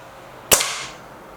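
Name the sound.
Crosman Silverfox Nitro Piston air rifle shot at bottle tops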